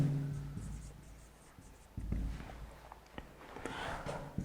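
Chalk or marker strokes on a classroom board during a Grade 7 maths lesson on divisibility rules, with a series of short taps and scrapes, moderately close, over a faint room hum.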